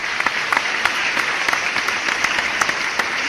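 Audience clapping at a lecture on common good and solidarity, a steady crowd applause with dense overlapping claps and sharper individual hits, moderately loud and continuous throughout.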